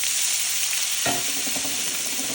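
Potatoes hit hot oil in a pan already used for sautéing tomatoes and onion, and a steady bright sizzle swells into louder crackling frying.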